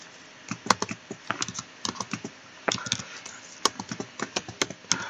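Steady typing on a computer keyboard, with crisp individual key clicks in quick irregular runs and brief pauses, close and moderately quiet, with no voices.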